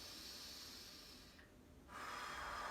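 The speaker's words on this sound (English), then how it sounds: "breathing in nice and deep" A slow, deep breath drawn in through the nose during a relaxed guided body exercise, a steady airy hiss that lasts for a few seconds. It is close and soft, with a brief pause before the airflow swells again.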